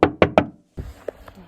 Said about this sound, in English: Someone just came knocking on my door in the middle of the national forest.